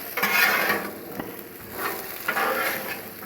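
Potatoes on a Blackstone griddle get stirred and scraped with a spatula, scraping swishes rising and falling over a steady close sizzle of frying.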